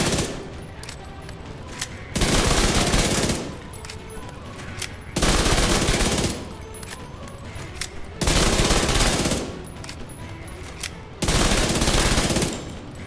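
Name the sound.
SMG gunfire in video game Division 2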